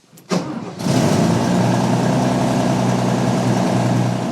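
An RV engine powered by an Epoch lithium cranking battery cranks briefly, then catches and settles into a loud, steady idle with a low rumble.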